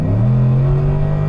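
The engine of a 2000 Cadillac Deville DTSI, a Tim Allen Designs build, rises steadily in pitch as it accelerates, a loud, close, continuous drone with no talking over it.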